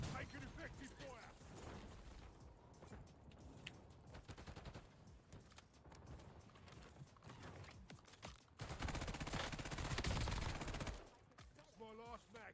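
Video game gunfire rattles in dense bursts of automatic fire, with mechanical clatter and a heavier sustained volley near the end, while a game voice speaks over the shooting.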